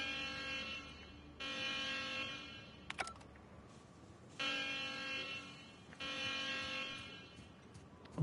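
An alarm in The Outer Worlds sounds as a harsh electronic buzzer, blaring in repeated long blasts of a second or two with short gaps between them, loud and steady with no talking.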